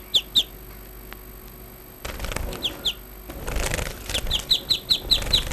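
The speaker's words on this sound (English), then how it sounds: "This bird is called finch." Finches flutter and chirp in a series of quick, high, close calls mixed with bursts of wing flapping. The chirps come in regular pairs and runs over rustling, with no voices.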